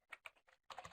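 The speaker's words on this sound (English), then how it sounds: "I'm sure you can hear me typing right now, so apologies for that." Computer keyboard typing, a quick run of close, crisp key clicks in irregular bursts with short gaps, ending in a denser flurry of keystrokes.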